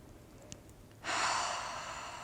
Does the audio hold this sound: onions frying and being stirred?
no